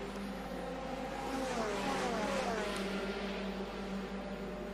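Formula 3 race cars pass at the Nürburgring during a European Championship race, their engines a steady, sustained roar with a pitch that sweeps as the cars go by, mid-distance and with no voices.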